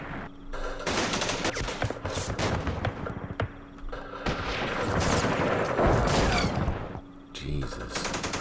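Dense gunfire bursts and booms from a Vietnam War strategy game, Campaign Series Vietnam at Dien Bien Phu, rattle almost continuously for over eight seconds, loud and close, with a brief lull before a final volley.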